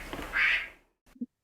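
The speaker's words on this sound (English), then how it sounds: "I guess you guys heard the quack quack. That was Bill Smith's phone." A phone notification tone shaped like a duck's quack rings out once, bright and nasal, then fades, followed by a couple of small soft knocks in otherwise quiet surroundings.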